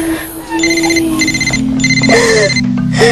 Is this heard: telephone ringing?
yes